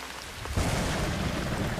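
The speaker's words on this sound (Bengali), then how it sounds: "মাঝে মাঝেই ঝমঝমিয়ে বৃষ্টি নামছে" Heavy rain pours down steadily, a dense hiss that swells louder after a brief softer start and then holds a constant roar.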